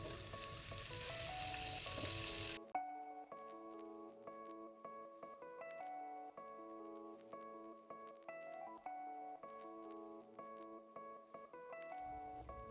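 Tempe and tofu fry in oil in a Teflon pan with a dense, steady sizzle for a couple of seconds before tonal music takes over and plays on alone.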